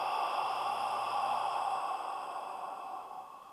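A long, soft exhale during a relaxation breathing exercise, close and gentle, fading gradually over a few seconds.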